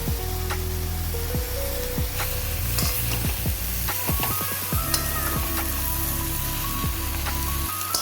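Steady sizzling of mango pieces frying in a pan for mango pickle, with repeated scraping and stirring strokes throughout; no voices.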